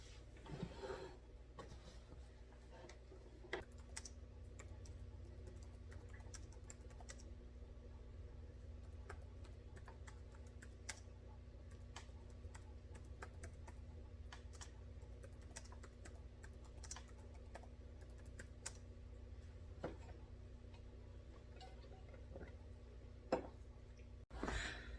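Steady computer-keyboard typing runs for the whole stretch as a newsletter gets written, with close, continuous rapid key clicks over a low room hum and no talking.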